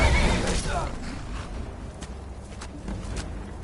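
Shadowmere, a horse in the video game Skyrim, whinnies loudly at the start amid busy combat noise, followed by softer thuds and clatter of battle.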